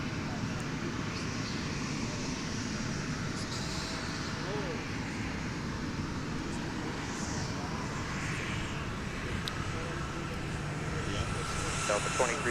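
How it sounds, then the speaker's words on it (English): A CRJ jet taxis across runway 30 left at MSP airport, its engine a low broad rumble with a faint whine, steady and fairly distant, mixed with outdoor background noise. "Air CRJ that is now strutting its stuff across runway 30 left."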